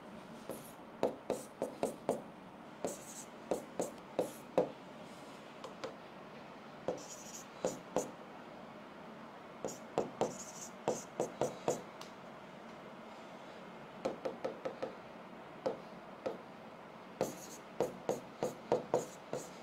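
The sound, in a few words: writing on a board during a maths lesson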